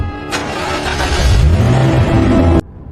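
A car engine turns over and runs steadily, loud and close, with a rising rev as the vehicle pulls away, then cuts off abruptly.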